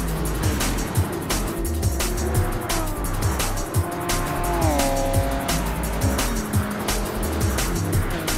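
Race cars lap a track in a racing video game, Mitsubishi among them. A steady engine drone runs under repeated tire squeals and shifting whines of passing cars, with no talk.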